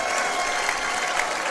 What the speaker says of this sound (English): Everybody in the Bremen cheering section now, and they're going to take a timeout here to cheer Emma Kincaid